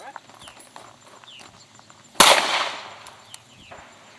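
A single sharp crack from a small gun fired at a watermelon, loud and close, with a brief burst of splatter decaying after it. Voices are heard outdoors nearby.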